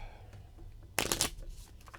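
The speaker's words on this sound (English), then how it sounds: "I have to shuffle, draw half, rounded up" A deck of Rat Folk game cards riffled once in a short close burst, crisp papery flutter lasting about a quarter second, then soft handling rustle, with no talk.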